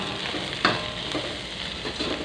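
Shallots, garlic and chili stir-fried in a pan for a bean sprout and tofu dish, a steady close sizzle with faint scraping stirs, no talking.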